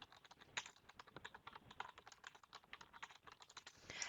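Text is typed on a computer keyboard in a quick, uneven run of soft key clicks that continues throughout, faint and close, with no talking.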